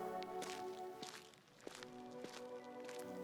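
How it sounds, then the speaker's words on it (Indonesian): Slow footsteps come up from behind in a misty forest at Alas Purwo. Soft, irregular steps sit under a sustained tonal music bed, faint and fairly close. "Langkah kaki pelan terdengar dari belakang."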